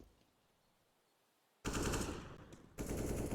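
Auto sniper rifle fire in a Counter-Strike match: after a quiet stretch come loud, rapid bursts of gunfire, first one long burst and then a second after a brief pause.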